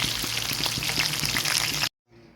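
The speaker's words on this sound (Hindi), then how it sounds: "यहाँ हमारी फिश फ्राई हो रही, तकरीबन फ्राई हो चुकी है।" Fish fries in a pan with a dense crackling sizzle and scattered pops, fairly close, before the sound cuts off abruptly near the end.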